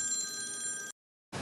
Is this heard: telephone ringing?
yes